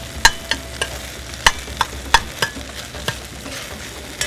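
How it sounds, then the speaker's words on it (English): Rice being reheated in a pan, with a spoon scraping and clinking against it in irregular stirs over a soft background sizzle, and no talk. "We just basically reheating this rice."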